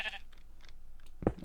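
Sheep in the Minecraft video game bleat faintly, a few soft scattered calls followed by a sharper, louder bleat near the end, with no talking.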